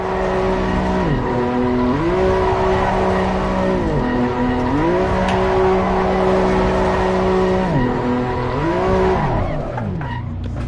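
A BMW TCX race car in a driving game drifts with long, wavering tire squeals that rise and fall repeatedly over a steady engine drone, loud and close throughout.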